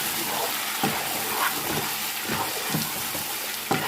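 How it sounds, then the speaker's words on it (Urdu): Chicken frying in a pan with browned onions, a steady broadband sizzle with faint scattered stirring taps and bubbling throughout, no talk. "پیاز براؤن ہو چکا ہے، اب ساتھ ہی چکن ایڈ کر دوں گی۔ چکن کو اچھے سے فرائی کریں گے۔"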